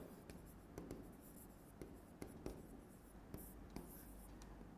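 Chalk or marker strokes writing an equation on a classroom board during a physics lesson, a series of short scraping taps at uneven intervals over a faint room hum, fairly close.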